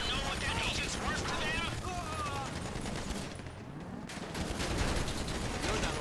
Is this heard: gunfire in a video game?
yes